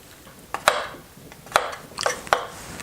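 A spoon mixes Brussels sprouts, potatoes and mushrooms with olive oil, making a few sharp scraping clacks against the bowl, spaced irregularly and fairly close, with quieter rustling between them.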